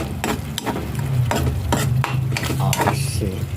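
Stirring corned tuna with egg in a frying pan: repeated scraping strokes of a utensil against the pan over a steady sizzle, close and fairly loud, with no talk.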